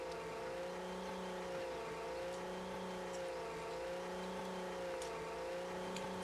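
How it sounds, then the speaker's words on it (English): A truck engine in the off-road game Mudrunner hums and revs steadily, a close, continuous droning motor with gently wavering pitch as the throttle is eased on and off. "So we want to gently gas it and then gas it hard when we get down to the bottom."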